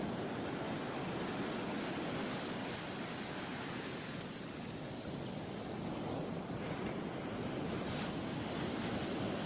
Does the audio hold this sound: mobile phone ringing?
no